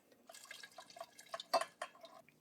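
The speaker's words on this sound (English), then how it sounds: "I'm just going to pour a little bit more into this to rinse it out" Liquid pours and drips in short irregular splashes into a wine fermenter being rinsed, with a few louder gurgling bursts near the middle, close and fairly quiet, with no talking.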